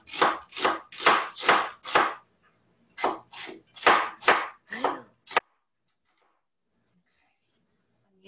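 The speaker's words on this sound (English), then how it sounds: "So now I'm gonna cut an onion." Knife chopping an onion on a board for Korean japchae: a steady run of sharp, close cuts, a brief pause, then another burst of rapid chops that stops abruptly, followed by near silence.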